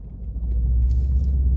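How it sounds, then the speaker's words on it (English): A Mercedes-AMG S63 pulls away, its engine a steady low rumble that swells slightly as the car gets moving, heard from inside the cabin with no talking. "Let's take off in the car and have some fun."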